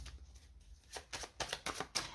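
Tarot cards shuffled and dealt at close range: a quiet pause, then a run of crisp riffling, slapping bursts coming in quick irregular succession with no voices.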